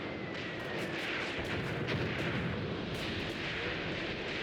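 Incoming mortar shells in the WWII tank game Tank Warfare: Tunisia 1943, a dense, continuous roar of blasts and rumbling explosions with sharper cracks breaking through, loud and sustained with no talking.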